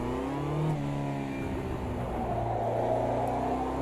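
A Caterham race car engine in the Automobilista 2 sim racing game revs hard and steady, shifting pitch around a gear change early on, then droning on at high revs without any talk.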